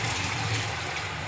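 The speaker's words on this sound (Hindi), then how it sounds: "तो मैं चावल का पानी निकाल रही हूँ।" Cooking water being drained off boiled everyday rice in a home kitchen, a steady close rushing pour of liquid that runs continuously without pause.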